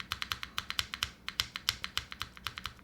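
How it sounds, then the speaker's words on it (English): Light, quick taps on a computer keyboard's enter key and space bar, about twenty crisp clicks in an uneven rhythm with a short pause partway, close and fairly soft, with no voices. "even when I'm just lightly pressing the enter or the space bar over here"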